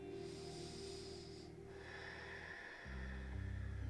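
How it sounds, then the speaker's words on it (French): Deep breathing during a morning bed yoga session, with slow, close breaths drawn in and let out over a steady background tone. "Prends de longues inspires et de profondes expirations."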